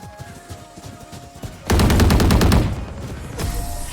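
Close, loud automatic weapon fire from a Valorant match: a burst of rapid rattling shots lasting about a second, set against quieter game noise and followed by a few more faint shots.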